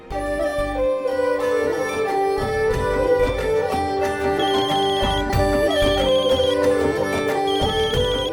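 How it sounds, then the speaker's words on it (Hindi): A telephone rings with repeated high electronic trill bursts over a loud dramatic music background in a Hindi TV drama scene, the rings recurring every second or so. "पुरोहित जी का फोन है"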